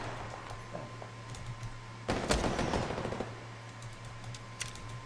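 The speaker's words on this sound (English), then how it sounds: "Somebody's shooting us with a sniper rifle." A burst of gunfire in Apex Legends, sharp rapid shots clustered over about a second with a steady game hum and scattered clicks around them.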